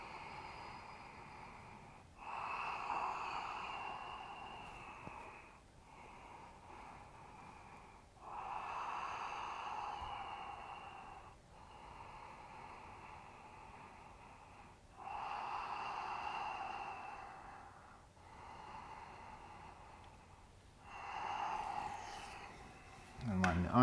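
Deep, slow yoga breaths taken while sitting low in a squat, four long whooshing inhales and exhales roughly five seconds apart, close and clear, with a sharper snort-like breath at the end.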